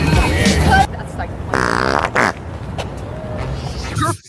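A fart noise from a Fart Bandit toy, a loud, buzzy, drawn-out blurt heard up close, with people talking and laughing around it and over it.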